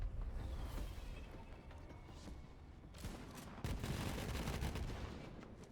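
Video game gunfire shoots at enemies in steady, dense bursts of rapid shots that swell louder partway through, with mechanical clatter and no talk.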